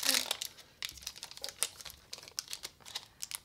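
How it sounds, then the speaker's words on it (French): Foil wrapper of a trading card booster pack crinkles and tears open in a quick burst, followed by scattered soft crackles and rustles of the pack and cards being handled up close, with no talking. "Yaya qui ouvre son booster."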